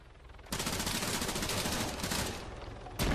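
Rapid automatic gunfire in Arma 3 strikes around a Strider armored vehicle, a dense, sustained burst of shots that starts abruptly, runs steadily for over two seconds, cuts briefly and then resumes.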